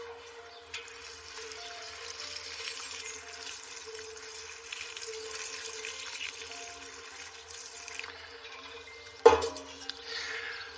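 Liquid tomato feed is watered onto garden plants, a faint, soft trickle and splash under a steady low hum, with one louder splashy burst toward the end.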